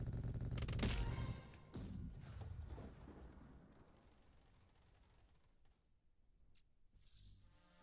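Booming explosions from bombs dropped in the Roblox shooter Phantom Forces, a loud heavy blast up front followed by several more impacts that fade into a lingering rumble and debris, with a final smaller burst near the end.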